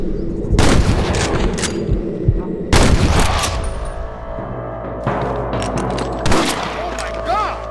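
Gunfire from the Western video game Red Dead Redemption during a shootout with rustlers: loud volleys of shots burst at the start, again near three seconds and late on, with rumbling echoes, a rising whistle and voices beneath.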